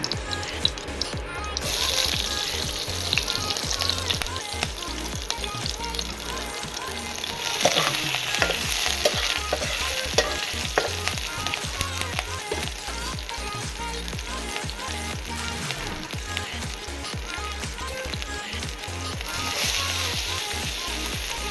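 Green chillies fry in hot oil in a pan, a dense, continuous crackling sizzle with scraping stirs and clatter running throughout at close range.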